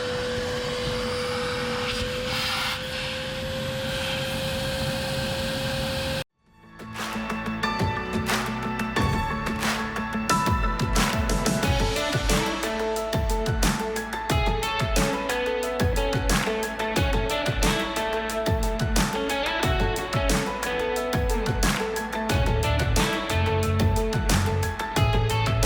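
A vacuum drawing a string through underground electrical conduit roars steadily and loud after a quieter opening hum, with rapid rattling and clattering layered through the sustained whine.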